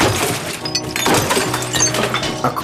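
Glass breaking and smashing as Peggy wrecks the Vic pub, pulling down bottles and optics behind the bar, with repeated loud crashes and clinks over a dense, busy background.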